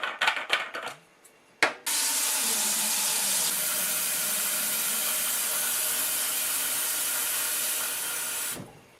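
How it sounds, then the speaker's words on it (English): Cold tap water gushing into a SodaStream bottle, a loud steady hissing rush that runs unbroken for several seconds after a few brief clunks, then cuts off abruptly. "Just fill that with really cold water basically, and then you put it in the fridge afterwards"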